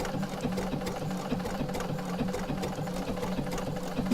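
A domestic sewing machine quilting circles runs in a fast, steady mechanical chatter of needle strokes, close and continuous without pause.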